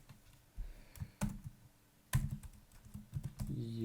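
Code typed on a computer keyboard in bursts of crisp, close key clicks and clacks, quiet and irregular, with short pauses between groups of strokes.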